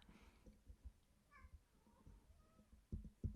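A pet cat named Marley lets out a brief, faint meow in the middle, partly buried under low thumps and room noise, with a few louder knocks toward the end.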